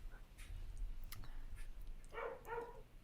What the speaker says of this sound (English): My barking dog outside is picking up.